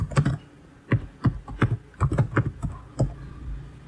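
Keys clack on a computer keyboard as an email address is typed, in a quick burst and then a run of about a dozen close, crisp strokes with short pauses between them.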